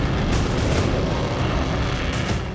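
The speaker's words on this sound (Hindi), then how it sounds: "ब्रिटिश एयरफोर्स के फाइटर जेट्स लगातार बाल्टिक की निगरानी कर रहे हैं।" A British Air Force fighter jet roars over the Baltic, a loud sustained broadband rumble that stays strong from start to finish with no voices.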